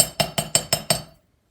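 Six quick, ringing metallic hammer strikes on a steel block, flattening a bead connector link for gemstone jewelry, evenly spaced and loud, followed by silence.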